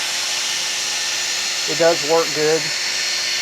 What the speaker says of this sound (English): Right now I've got this on speed 1. This drill has a speed 1 and 2.